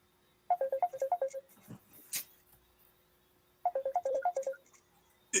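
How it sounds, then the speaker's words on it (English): A mobile phone ringtone plays two loud bursts of quick, bright repeating electronic notes, the first starting at about half a second and the second near 3.7 seconds, with a quieter lull and faint noises between them, in a meeting setting. "Somebody phone, please turn it off."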